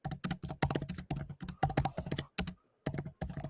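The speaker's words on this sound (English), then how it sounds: "Ferociously typing the Tooch." Rapid, ferocious typing on a computer keyboard, a dense run of close, loud key clatter with brief pauses between bursts and no talk over it.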